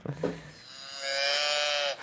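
A cow moos once in a long, loud, sustained low call. A brief rustle comes just before it.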